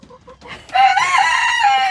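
Chickens near a chicken pen on a morning farm, with a couple of soft clucks leading into a loud, drawn-out crowing call close by.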